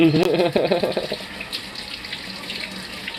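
Hot water runs from a tap into a sink, a loud steady splashing gush, with a short voice sound near the start.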